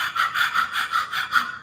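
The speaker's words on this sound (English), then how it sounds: "we're going to do a breath of fire" Breath of fire from a Kundalini yoga practice: rapid, rhythmic panting breaths forced through the nose, about eight quick even puffs, close and clear with no talking.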